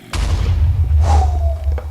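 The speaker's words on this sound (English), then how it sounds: "I'm gonna throw this grenade, and you wait for it to go boom" A grenade in Minecraft Flan's Mod bursts with a sudden heavy boom followed by a rolling low rumble and a second thudding blast, loud and close.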